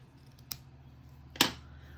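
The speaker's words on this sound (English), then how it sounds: "And then I'll cut myself a little slashes." Scissors snipping slashes into ribbon for a handmade card, two crisp separate cuts, the second louder and close, in a quiet room.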